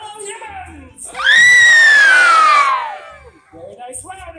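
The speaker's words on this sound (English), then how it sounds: "You throw your hands up in the air and scream as loud as you can like you saw a monster." A theme park show audience screams and whoops together as if seeing a monster, a loud sustained crowd shriek of children and adults rising sharply, holding about two seconds and then fading, with brief talk before and after.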